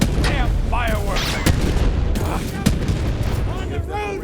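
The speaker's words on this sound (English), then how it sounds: "Those Devil Riders are celebrating the Sheriff's death with damn fireworks." Fireworks in the video game Borderlands 3, a string of sharp cracks and booms popping at irregular intervals under whistling streaks and a voice talking over them.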